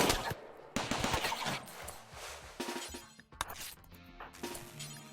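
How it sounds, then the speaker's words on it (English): Rapid bursts of gunfire in the colony survival game RimWorld, set on a tomb world under a swarm attack: dense, loud volleys of shots in several clusters with short gaps, layered with game sound effects and no talking. "Shots fired."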